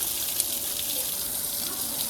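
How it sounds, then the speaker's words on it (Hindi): Water pours in a steady, hissing stream, like a tap running into a basin, constant and fairly close for the whole stretch with no voices. "मेरे ऊपर क्यों पानी डाल रही हो?"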